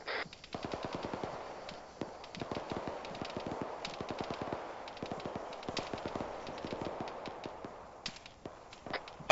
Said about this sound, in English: Marksman firing on us.